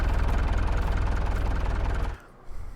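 Tractor engine idling in a farming video game mod, a steady low rumble with a constant pulsing texture that holds evenly and then cuts off abruptly near the end, leaving brief quiet and a faint bump.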